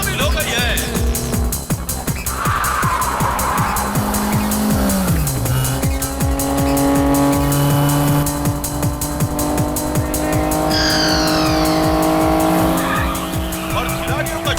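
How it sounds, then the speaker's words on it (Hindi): Race cars roaring around a track during a race after a crash, with screaming engines, tire squeals, skids and passing cars under loud talk, all layered with dramatic music. "ये 37 गाड़ी भी हादसे का शिकार हो गई है, लेकिन फिर से वो दोबारा रेस में शामिल हो गई है।"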